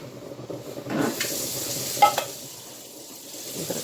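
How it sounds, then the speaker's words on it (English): Spaghetti noodles get stirred and coated in sauce in a pot, a few scraping stir strokes and a metallic tap over a soft sizzle, close and fairly loud. "a good stir. Make sure that all of my noodles are good and coated."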